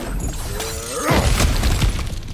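Objects shatter and break apart in God of War Ragnarok, a loud crash with tumbling debris that settles over about a second, with no talking.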